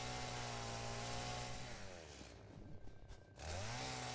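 A chainsaw in the video game Satisfactory slicing bacon, its steady loud engine whine running continuously, dipping briefly mid-cut before revving back up.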